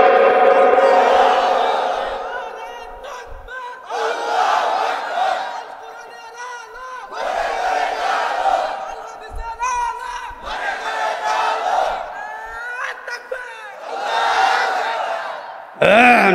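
A large crowd shouts the takbir in unison, several loud swelling chants separated by short gaps, voices massed and reverberant, the last burst rising sharply at the end.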